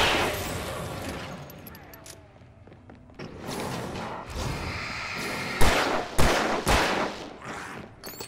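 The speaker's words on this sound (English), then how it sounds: "Shotgun. Why not?" Shotgun blasts in the video game Alan Wake Remastered, several loud booming shots in the second half over a dense, noisy game soundscape, with a voice talking.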